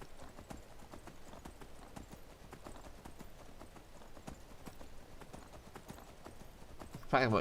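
Horse hooves gallop in the Skyrim video game, a steady rhythmic clip-clop of even beats that continues throughout at moderate level, ending with a brief louder burst.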